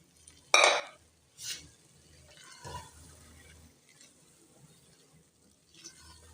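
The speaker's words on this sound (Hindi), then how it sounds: "अब इसमें दाल ऐड कर देंगे" Boiled lentils tipped into a cooking pan and stirred, a sharp clatter and wet plop followed by softer scraping stirs and utensil knocks, fairly quiet overall.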